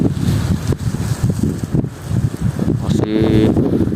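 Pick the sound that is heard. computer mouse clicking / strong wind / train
strong wind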